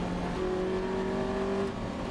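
A Lotus Elise race car in an Elise Trophy race at Spa-Francorchamps, its engine holding a steady loud drone with a sustained tone near the top of the hill, no break or pause throughout.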